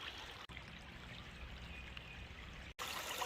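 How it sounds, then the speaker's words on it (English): Clear water flows steadily in a stream beside a gold sluice, a soft continuous trickling rush with two brief dropouts and a brighter, louder stretch at the end. "Water is flowing really nice today, nice and clear."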